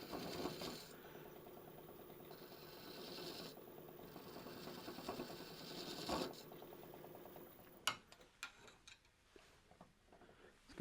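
A loose chuck on a lathe turning a mortar and pestle, giving a steady rhythmic mechanical rattle over the spinning hum, then sharp clacks and knocks after the machine stops.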